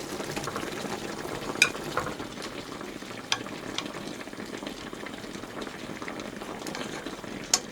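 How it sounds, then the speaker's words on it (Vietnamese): Braising liquid bubbling with fish and bamboo shoots in a pot, a steady soft sizzling simmer with a few faint sharp ticks, close and continuous. "Cho nước kho nó sôi trong 5 phút ha."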